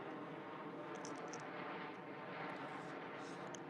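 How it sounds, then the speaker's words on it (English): Airplane passing overhead, a steady broadband roar at moderate distance that holds evenly throughout, with no talk over it. "Hold on a minute, I'm gonna let the airplane go by."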